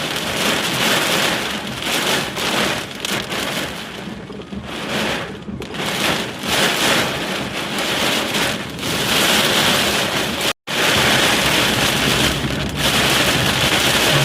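A heavy storm pours rain over a parked car in Punjab, a loud, dense, unbroken roar of drops close by, with only a split-second break.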